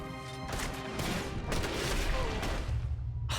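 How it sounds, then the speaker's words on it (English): Rifle gunfire in Red Dead Redemption 2, a dense run of sharp cracks and booming reports over continuous battle noise, loud and close, with a brief lull near the end. "we're gonna have to actually use our rifle then"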